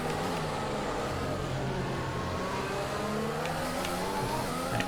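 Strained, worn-out engine of a Formula One car at the Canadian Grand Prix in an F1 racing video game, droning steadily and loudly throughout with shifting harmonic tones and no talk.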